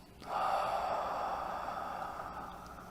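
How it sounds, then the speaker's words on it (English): A slow, deep inhalation drawn close to the microphone during a guided prayer and breathing exercise, a steady airy rush lasting over two seconds, alone with no talking. "we take another deep breath in"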